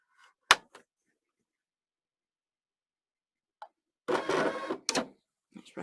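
A home embroidery machine works after its hoop is put in, giving a sharp click, a few faint ticks, then a short mechanical whirring burst followed by scattered clicks within mostly quiet surroundings.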